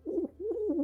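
A human voice imitates a pigeon, giving two short, soft, throaty cooing phrases close to the mic.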